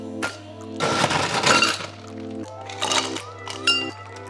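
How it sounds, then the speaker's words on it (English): Ice cubes tumble and clink into a rocks glass in a couple of loud, clattering pours, followed by smaller clinks and rattles as the cubes settle. "We're going to load that up with some ice."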